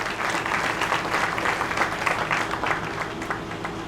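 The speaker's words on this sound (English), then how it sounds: "Give a round of applause for our 2020 boys" An awards-ceremony audience gives a round of applause for the high school boys and girls bowling teams: dense, steady clapping from a crowd indoors, with no voice heard over it.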